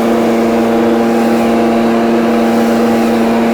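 A gas STIHL BR430 backpack blower runs steadily at high throttle, a loud, constant droning engine whine with a strong steady hum that cuts off abruptly at the end, no voices.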